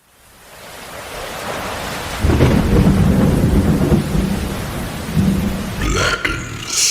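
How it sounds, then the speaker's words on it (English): Thunder rolls in as a deep, swelling rumble that builds and stays heavy, with a sharper crack near the end amid hissing, rain-like noise and no talking. "can you drop this in with like maybe some thundering in the background?"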